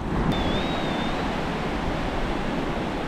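Steady broadband wash of ocean surf breaking near the shore on a Moroccan surf beach, loud and continuous with some wind noise on the microphone and no voices.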